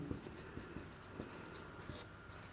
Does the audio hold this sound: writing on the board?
yes